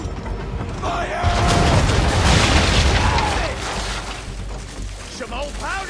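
Ship cannons fire during a naval battle in Assassin's Creed 3, deep rumbling booms swelling over creaking timbers and mechanical clatter, with voices talking over the din.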